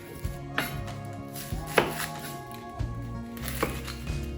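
A knife chops through an onion on a board, giving several sharp, separate thunks spaced about a second apart, close and fairly loud, with faint kitchen background between cuts.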